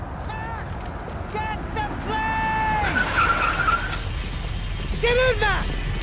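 A car in the video game Max Payne 3 skids with several squealing tire screeches over engine rumble, under tense voices and urgent shouting.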